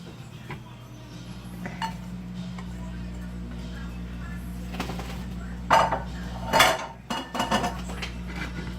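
Bowl and cutlery clinking in a kitchen while eggs are prepared: a few sharp metallic clanks and scrapes stand out over a steady low hum and light handling noise.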